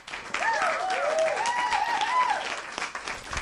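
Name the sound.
applause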